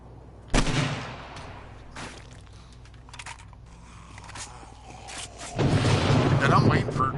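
Gunfire in 7 Days to Die on PS4, a sharp loud shot followed by a few fainter reports, then a longer noisy burst of firing near the end, with someone talking in between.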